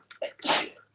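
A woman at a live fabric sale gives a single sharp sneeze, a short quick inhale building into a loud burst close to the microphone.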